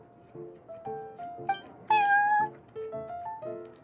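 Prince, a cat in the Genshin Impact video game, lets out a series of short, clear, tonal meows in an uneven rhythm, with one louder, higher meow near the middle standing out.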